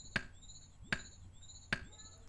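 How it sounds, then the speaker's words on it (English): Three evenly spaced chopping hits ring out against a mushroom in Old School RuneScape, each a sharp game chop with a short tonal tail over quiet background. "let's begin chopping this first mushroom"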